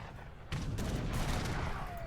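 A field cannon booms and musket volleys crackle in an Age of Empires battle, with a sudden heavy blast followed by sustained rumbling gunfire and smoky echoes in the video game's battlefield din.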